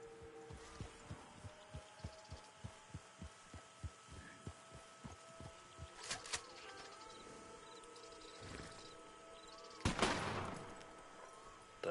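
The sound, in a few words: varmint rifle firing sedative rounds in Red Dead Online video game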